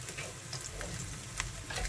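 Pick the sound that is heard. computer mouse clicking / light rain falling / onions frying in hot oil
onions frying in hot oil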